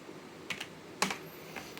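Computer keyboard keys pressed during command-line work on a Debian 9 mail server in VirtualBox: a few separate, crisp clicks, two quick taps followed by a louder pair, close and alone in a quiet room.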